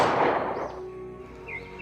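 A single gunshot opens an attack on a Japanese army camp at night, a sharp close crack that decays quickly into a fading echo, followed by faint thin tones in the background.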